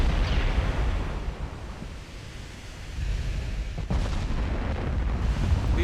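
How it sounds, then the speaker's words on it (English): 18-inch naval guns firing in the naval warship game Ultimate Admiral Dreadnoughts: deep booming blasts over a rushing, sea-like roar, with a louder burst of fire near the four-second mark. "These 18-inch guns are just absolutely wrecking them"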